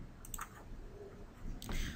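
A computer mouse gives a few faint, quick clicks, a pair near the start and another near the end, over a quiet room background with no one talking.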